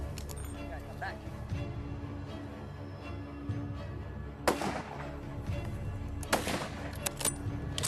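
Loud rifle shots, two sharp reports with ringing tails a couple of seconds apart, from a large-caliber rifle while hunting a Komodo dragon outdoors, with voices in the background.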